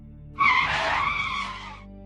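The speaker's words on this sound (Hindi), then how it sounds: "प्रभाकर जोर से ब्रेक लगाता है।" A sudden hard braking skid bursts in loud and close from a bike on a night road, a single sharp screech that holds steady for about a second and a half before cutting off, with no talk over it.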